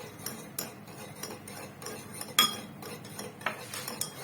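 Caustic lye being stirred into a homemade laundry soap mixture, giving irregular clinks and scraping taps of a utensil against a container, fairly close and steady across the stretch, with no talking.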